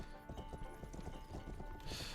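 Horse hooves clip-clop at a steady rhythm through a fantasy video game, quite faint under a constant bed of game music, ending with a brief brighter burst at the end.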